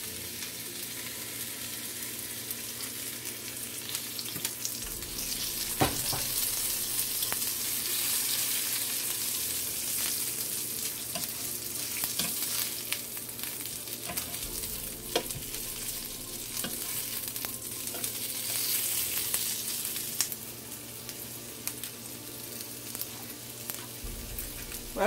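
A burger patty fries in a little olive oil, a steady close sizzle hissing without pause for the whole stretch, with faint scrapes and taps now and then and no voices.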